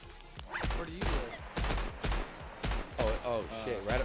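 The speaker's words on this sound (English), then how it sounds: "There's gunshots outside my base." Gunfire in LongVinter, the survival video game, sharp repeated shots cracking at uneven intervals around a base, loud and punchy, with a voice talking between the bursts.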